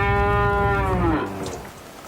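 A dairy cow on a working farm lets out one long, loud, close moo that slides downward and fades, with no voices around it.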